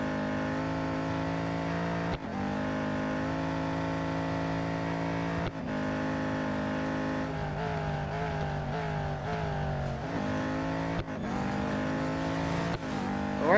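A Ferrari race car in the Real Racing 3 racing game, its engine droning loud and close with rising and falling revs through gear changes and several sharp breaks where the pitch drops and climbs again.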